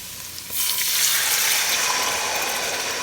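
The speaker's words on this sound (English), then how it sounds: "I just poured in my bouillon" Bouillon poured into a hot pot of cooking garlic and onions bursts into a loud sizzling hiss after a quieter moment, then a steady frying crackle continues nearby.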